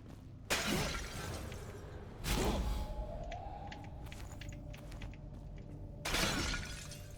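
Jars breaking in the video game Enshrouded, three loud shattering crashes spaced several seconds apart, each with a ringing glassy tail, and small tinkling pickup sounds in between.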